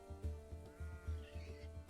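Baby goats bleat repeatedly in the farming game Clanfolk, a rapid series of short, nasal cries in quick rhythm over a couple of seconds, clear and close with no talk.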